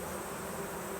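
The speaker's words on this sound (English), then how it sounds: "I don't know if you can hear the roar. They're trying to fan that smoke out of the hive." Honeybees in a Layens hive roar as they fan smoke out after being smoked, a steady, dense, close buzzing drone that holds evenly throughout with no pauses.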